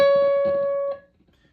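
One clean guitar note, the C sharp fretted at the 14th fret of the second string, sounds alone and sustains briefly before being cut off just under a second in.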